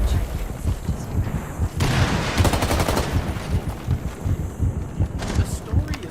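Rapid bursts of gunfire from the video game Days Gone crackle in dense, repeated volleys under a steady layer of game noise, loud and close, with a person talking over parts of the action.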